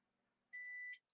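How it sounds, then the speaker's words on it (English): A kitchen-style timer gives one sustained electronic beep of about half a second, then a short second chirp, clear and alone over a quiet background. "Oh, I keep forgetting to change that timer."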